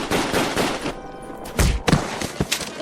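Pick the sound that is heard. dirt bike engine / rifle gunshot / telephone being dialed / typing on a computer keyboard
rifle gunshot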